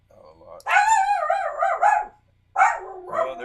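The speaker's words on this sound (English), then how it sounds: "Well, there's my doggy." A pet dog named Astro barks and yips close by, one sustained bark sequence and then a second burst after a pause, loud and alone.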